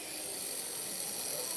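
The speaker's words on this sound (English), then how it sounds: "This is a battery-operated sweater shaver, but it's got a really weak battery in it right now" A battery-operated sweater shaver running sluggishly on a weak battery gives off a steady, thin mechanical whir with a faint rasp, constant and close throughout with no talking.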